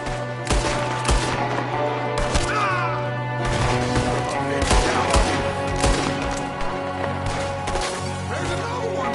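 Repeated gunfire in a video game, with a window shooter among the attackers: dense bursts and single sharp shots crack close and loud over a steady droning score, with chaotic impacts throughout.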